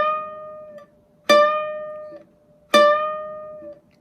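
Ukulele notes on the 1st string at the 5th fret, plucked three times and left to ring, the later two bright and sustained with a slight rise in pitch as the string is pushed a half step up, close and clean.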